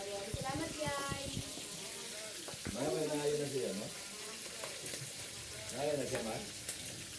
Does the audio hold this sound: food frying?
yes